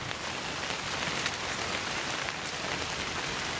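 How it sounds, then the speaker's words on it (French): Heavy rain pours down in a dense, steady downpour, a loud and continuous hiss with no break and no voices. "il y a trop de pluie, c'est un déluge"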